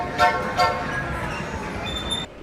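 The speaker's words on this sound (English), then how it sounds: "they even set up a train to ride around in the Embarcadero Center" A holiday ride-on train at the Embarcadero Center gives two short toots of its horn close by, followed by a steady rolling rumble with a faint high whistle tone near the end.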